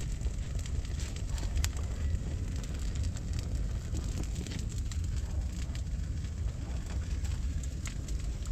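A strong outdoor fire in a field, used for cooking makapuno jam, burns with a constant moderately loud roar and crackle, wind-like and unbroken, with no talking.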